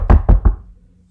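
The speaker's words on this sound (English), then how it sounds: "there was a knock on the door." Three firm knocks on a door in quick succession, close and loud, each a sharp thud, then a brief fading ring into silence.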